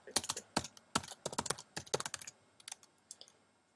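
Bursts of quick keystrokes on a computer keyboard while a web address is typed, close and clear, in uneven rhythmic runs with brief pauses and no talking.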